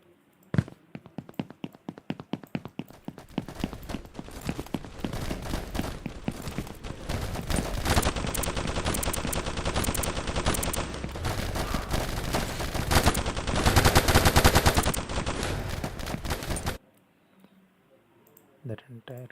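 Gunfire in a shooter game built in Unreal Engine: scattered single shots give way to long rapid automatic bursts that grow louder and denser, then cut off abruptly, leaving quiet room tone with a voice speaking near the end.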